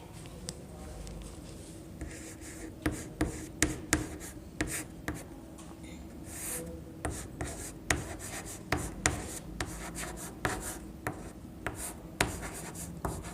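Pen scratching across paper as an answer is written out by hand, close and quiet, in irregular short strokes and taps with brief pauses, continuing throughout.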